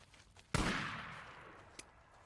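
Gunfire in the video game Days Gone: one sudden loud shot with a long, fading reverberant tail, followed by a fainter, brief pop, with no talking.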